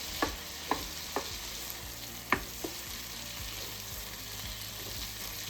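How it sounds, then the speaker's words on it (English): A tablespoon of butter melting in a pan while making honey garlic chicken gives a steady, soft sizzle with a few sharp pops and stirring clicks scattered through it. "We're going to add in another tablespoon of butter. I'm going to let that melt down."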